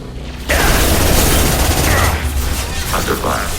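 Rapid gunfire crackles and booms through a combat firefight in the video game Mass Effect 2, bursting in loudly after a brief quiet start and continuing as a dense, near volley with mechanical clatter.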